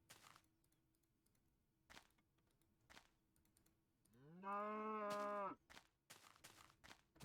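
A cow in Minecraft Beta 1.5 gives one loud, drawn-out moo lasting about a second, set against a steady patter of keyboard clicks before and after.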